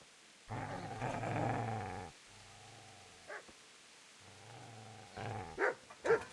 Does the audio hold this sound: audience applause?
no